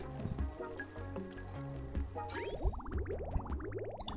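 Water trickles and drips into a pool in Oxygen Not Included, soft liquid plinks under a busy game soundtrack of chiming tones and rising synth sweeps.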